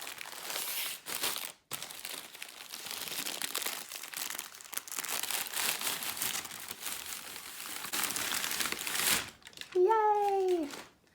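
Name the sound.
crinkling fabric shop bag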